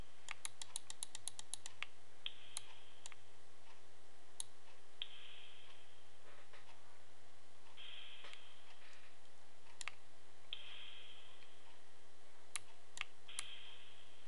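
Sharp, quiet keyboard clicks tap out a quick run of keystrokes, then scattered single taps spaced across the stretch over a faint steady hum, with no talking.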